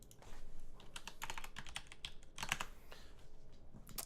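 Rapid clattering keystrokes on a computer keyboard while entering a name in the strategy game Dominions 5, a steady close run of taps with a few sharper clicks and no voices.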